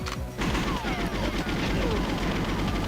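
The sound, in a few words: gunfire in the video game GoldenEye 007 for N64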